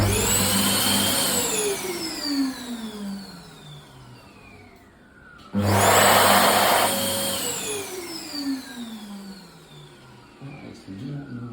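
An abnormal-sounding hand dryer in a toilet, dating from around September 2021, runs in two loud bursts that each begin with a hard whine. The pitch then sweeps steadily down as the motor winds down, close and alone.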